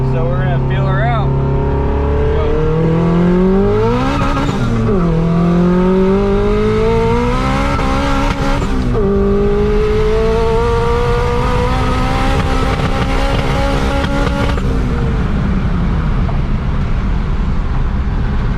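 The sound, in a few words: built Honda H22 Prelude accelerating through 2nd to 4th gear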